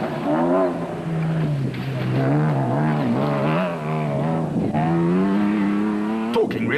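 Toyota Hilux rally trucks churning through dust at an off-road race, a loud, steady engine drone with rising and falling revs as the vehicles pass close by, continuous throughout with no talking.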